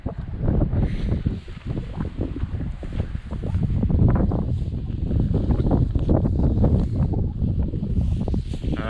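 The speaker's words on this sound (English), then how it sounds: "So yeah, windy morning, a little bit chilly." Strong gusts of wind buffet the microphone outdoors on a chilly morning, a loud, continuous roar that swells and eases in waves with no talking.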